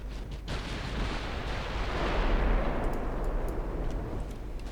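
Warship guns firing in the naval battle game Ultimate Admiral Dreadnoughts, a heavy booming blast that rolls on as a sustained, rumbling roar, with a few faint distant pops afterward.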